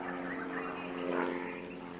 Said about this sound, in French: Nous voilà de nouveau à bord de notre petit avion de tourisme qui survole la planète Peau.